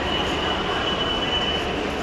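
Train ambience at New Delhi railway station: a steady, loud rumble of rolling rail cars with a faint, thin wheel squeal running across it, continuous and without voices.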